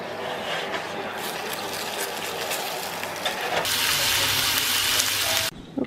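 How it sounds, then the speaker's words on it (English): Rump steak frying in coconut oil, a loud, close sizzle that swells partway through and then cuts off abruptly near the end. "I'm cooking my steak in coconut oil"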